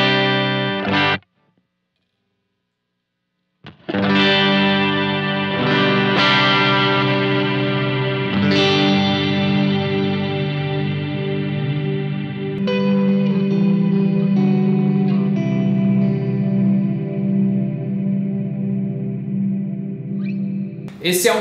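An Eventide H9 guitar effects pedal set to a deep, long-tailed reverb shapes electric guitar chords that ring out and sustain for many seconds after each strum, after a brief pause near the start.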